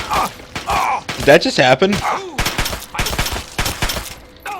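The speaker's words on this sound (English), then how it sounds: "Oh, and I'm being shot at." Gunfire aimed at the player in Fallout 3, sharp bursts of shots and impacts cracking in irregular clusters, loud and close, interrupted by a man's speech.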